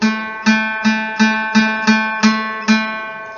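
A guitar string, the fourth string fretted at the second fret, is plucked repeatedly, eight even notes in a steady rhythm, each ringing briefly before the next pluck.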